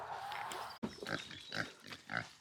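Free-range pigs in a rain-soaked, muddy Irish field give a string of low, rhythmic grunts and snorts, fairly close but quiet, each lasting a fraction of a second with brief gaps between.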